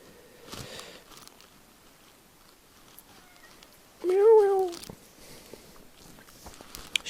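A cat lets out a single clear meow in a quiet room, brief and fairly close, amid faint handling noises and light tapping.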